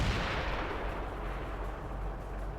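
A Panther tank's main gun in World of Tanks lets out a heavy booming blast that rolls on as a dense, sustained rumble, loud and close as heard from inside the tank.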